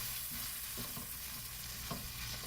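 Onion sautés in a pan for an elephant foot yam curry, giving a steady sizzle and frying crackle. Several soft scrapes of stirring come through at intervals.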